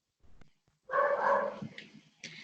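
A dog barks and whimpers in short bursts, a few close, sharp calls with whiny yips in between over a quiet room.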